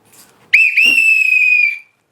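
A whistle is blown close and loud, like a bus conductor signalling a stop at Tambaram: a sharp initial chirp, then one steady shrill blast held for about a second before stopping cleanly into silence.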